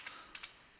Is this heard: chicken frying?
no